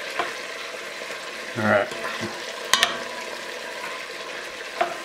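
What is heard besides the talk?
chicken browning in a pan, sizzling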